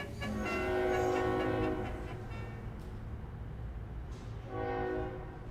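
A railroad train passing with a horn blaring, two loud sustained horn blasts over rumbling rolling wheels, the first long and the second starting near the end.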